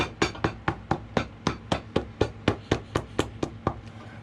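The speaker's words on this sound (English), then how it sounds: "let me finish hammering." A hammer strikes rubber half soles being fitted onto Allen Edmonds shoes, about sixteen sharp, even blows in a steady quick rhythm, close and alone.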